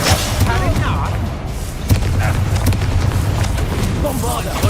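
Explosion in the video game Hogwarts Legacy, set inside a busy spell battle with poachers. A heavy blast thumps under continuous combat noise and shouted voices.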